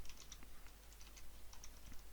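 Quiet, rapid keystrokes on a computer keyboard while entering code, irregular light clicks clustered in short bursts over a faint steady hum, with no voices.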